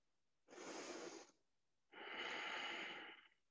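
Two slow, deep breaths taken during a stretching exercise, a long inhale followed by a longer airy exhale, close and soft in a quiet room.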